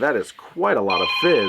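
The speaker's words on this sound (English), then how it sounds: "That's my phone." A phone rings with a steady electronic tone partway through, sounding under a man's speech in a drink-review setting.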